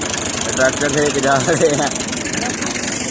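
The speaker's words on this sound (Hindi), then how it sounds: "ये देखें, ये ताया बुले आए हैं ट्रैक्टर" A tractor engine runs in a farm field at sowing time, a low steady rumble that continues under someone talking in the foreground.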